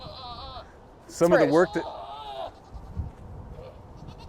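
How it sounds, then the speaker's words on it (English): A goat on a farm gives one loud, wavering bleat close to the microphone, with a person talking briefly before and after it. "You hear that? That's a goat."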